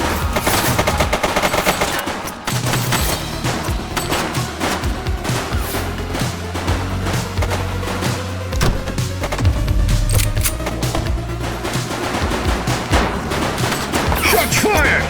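Sustained video-game gunfire in the police game The Precinct: rapid machine-gun bursts and repeated shots crackle loudly and densely for the whole stretch, with faint engine hum underneath.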